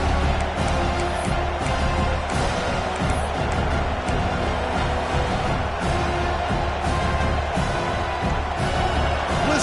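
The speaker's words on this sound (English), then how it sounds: "Listen to the crowd energy here in the early going." A large college football stadium crowd roars and cheers continuously, a dense wall of voices with rising swells, loud and sustained throughout.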